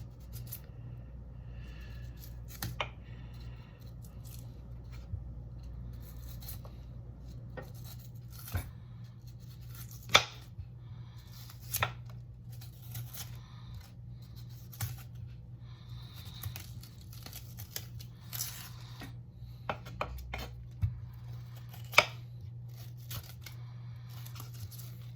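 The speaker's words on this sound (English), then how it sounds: "let's remove the skin of the onion" Outer skin being peeled off an onion by hand: faint, intermittent dry crackles and papery tears, scattered sharp snaps over a quiet low hum, close and soft.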